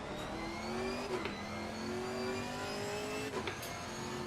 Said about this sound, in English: Cars coming up.